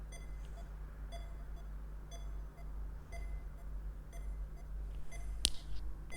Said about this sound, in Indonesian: Ini alarmnya bunyi ya, kalau kita dengarkan suaranya